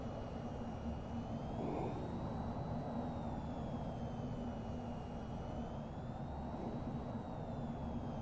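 A wingman's Kestrel jet landing in a video game, a steady loud engine roar with a slowly wavering high whine, continuous and close.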